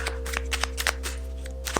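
Tarot cards riffle and snap in a quick, uneven run of crisp shuffling bursts, close up over a constant low hum, with no talking.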